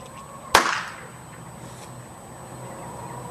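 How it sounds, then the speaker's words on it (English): A firecracker set under a shirt goes off in a single sharp, loud bang, with a short rattling decay and then quiet room noise. "all you need to do is set the firecracker inside and light it"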